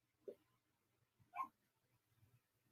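A pet dog named Maggie gives a couple of short, soft barks or yips indoors, one brief sound then a louder bark a second later, fairly faint and close, with no voices over it.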